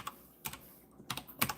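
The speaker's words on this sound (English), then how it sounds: "I was doing all that typing and nothing typed, guys." A few sparse keystrokes click on a computer keyboard, close and quiet, spaced out in small groups with gaps of near silence between them.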